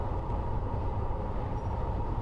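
Steady train running in the Train Planet simulator, a continuous low rumble with broadband rolling noise that stays level throughout, no voices present.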